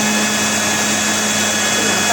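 A kitchen mixer grinds boiled stinging nettle and taro into paste for a Pahari sabzi, a loud, steady whirring motor whine running continuously up close.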